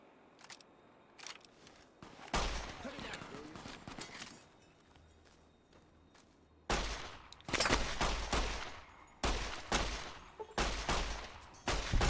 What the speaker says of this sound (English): Oh, there's more shooting over here.